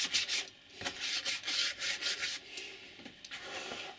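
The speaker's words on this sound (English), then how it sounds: "Just get my rubber and rub the top of that off." A rubber eraser scrubs back and forth on model railway scenery, giving a close, quiet run of rhythmic rubbing strokes with short pauses between them.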